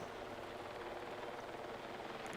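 A helicopter in Battlefield 6 produces a steady, faint, broad rotor-and-engine drone with no distinct approach or departure.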